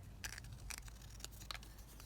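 Scissors snipping paper for a lapbook cover, four or five quick, crisp cuts close by and faintly recorded, with no talking.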